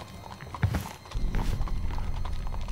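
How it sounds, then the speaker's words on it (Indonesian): A horse-drawn delman cart passing in the small hours, its horse's hooves clip-clopping in a steady, moderately near rhythm over a low rumble of wheels, with no voices. "Mendengar suara delman ngelewat jam 3 subuh."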